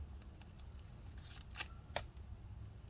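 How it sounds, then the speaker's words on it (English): Scissors make a few crisp snips through a strip of tape during a Lenovo Yoga 520 laptop repair, quiet close-up cuts spaced out over a low background hum. "I'm going to cut this piece of tape into 3 pieces here"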